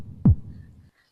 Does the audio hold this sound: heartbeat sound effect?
yes